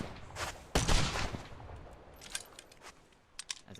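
A single-shot rifle fired from the hip in the pirate video game Blazing Sails: one sharp, loud report near the start with a short decaying tail, then softer mechanical clicks and faint game noise.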